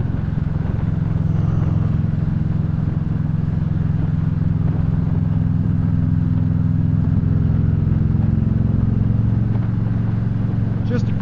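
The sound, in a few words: Victory Cross Country motorcycle engine running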